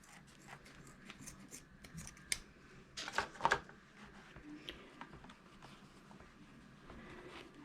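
Scissors snip through yarn while making a Christmas wreath, a cluster of crisp close cuts in the middle with a few lighter clicks around them, against faint room noise.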